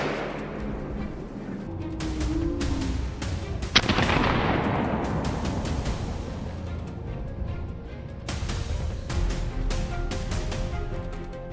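A single sharp gunshot rings out during a wild boar hunt on a snowy, icy field in Kaluga in deep winter, standing out over steady wind and rustling noise, followed by a long fading tail.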